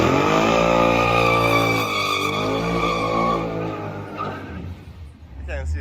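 A Ford F-150 pickup doing a tire burnout: a loud, sustained, wavering tire screech over engine roar, close and continuous before fading near the end.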